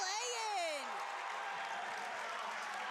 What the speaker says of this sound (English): He is getting the crowd pumped up.